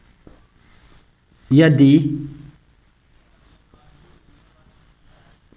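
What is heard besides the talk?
writing on the board during a lesson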